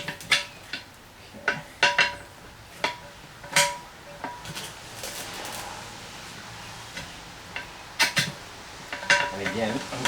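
Metal tire spoons lever a tight tire bead onto a bicycle rim, producing sharp, close metallic clicks and scrapes at irregular intervals with rubbery rustling between them.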